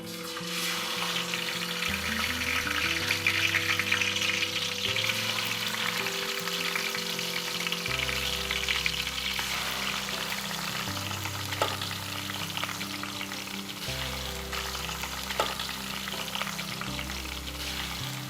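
Green masala fish fries in hot oil with a loud, dense, continuous sizzle that stays steady throughout, while music plays in the background.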